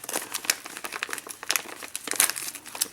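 Packing material on a stuffed mail parcel is torn and crumpled by hand, giving a close, loud run of crackling, crinkling rustles with sharp irregular bursts throughout.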